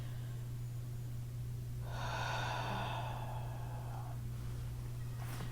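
A single slow, airy yoga breath during pranayama practice drifts in and out over about two seconds, soft and close against a steady low electrical hum.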